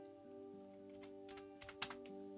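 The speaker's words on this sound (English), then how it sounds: "sorry if you can hear all the relentless mouse clicking" A computer mouse clicks during 3D modelling work in Blender, giving a few faint, quick clicks late in the moment over a constant electrical hum with no talking.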